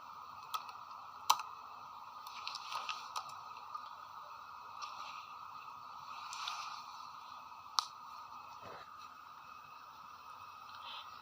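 Light, scattered clicks of a computer keyboard being typed on while entering a JavaScript command, with occasional sharper keystrokes over a steady background hum.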